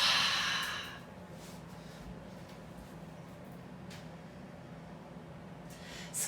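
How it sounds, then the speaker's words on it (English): A deep cleansing breath during a yoga session, with a strong, airy inhale or exhale at the start that fades into a quiet, steady room hush, followed by another soft breath at the very end. "take a big cleansing breath in. Exhale, release it all out."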